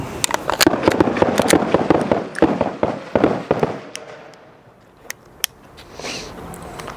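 A Staccato pistol fired at targets on a range, a rapid burst of sharp, loud reports with crackling echoes, then a pause and a few scattered single shots.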